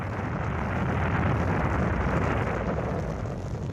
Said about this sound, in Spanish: All engine running. Liftoff. We have a liftoff.